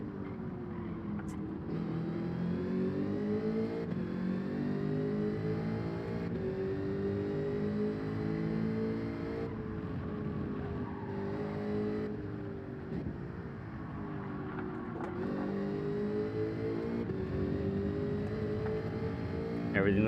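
Race car engine in Gran Turismo 7 at Lago Maggiore, a continuous droning tone that climbs and dips through gear changes, steady throughout under casual talk.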